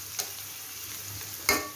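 Garlic, onion and dried chili fry in a pan as kanjal, a Bangladeshi ingredient, is added, producing a steady soft sizzle with two sharp stirring clatters, one early and a louder one near the end.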